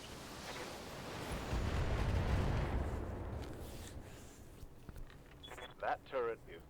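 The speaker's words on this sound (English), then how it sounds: "We could just airstrike the fucking buildings." Airstrike explosions level buildings in modded Battletech, a video game, with a deep, rolling rumble that swells loudly and then fades. Voices talk over the tail end.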